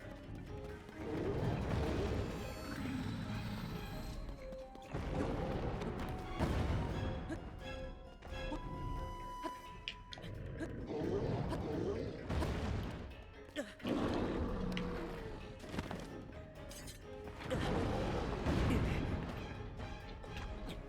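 A bomb explodes in a Dodongo's mouth in the video game Zelda: Tears of the Kingdom, one of a long run of loud booms, crashes and impacts repeating every few seconds amid dense game noise.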